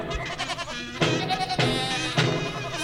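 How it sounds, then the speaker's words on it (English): Sheep or goats bleat in a short run of wavering animal calls, three strong cries rising at regular intervals over a steady farmyard background, played as a sound effect. "Can we bring in the farm animals?"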